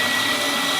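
A meat grinder machine churns McDonald's Big Mac and nuggets into sausage filling, a steady, loud, continuous whirring drone with no pauses.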